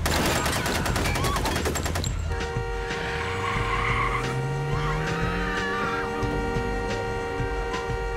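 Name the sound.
car pulling up in the street, then gunfire (sound effect)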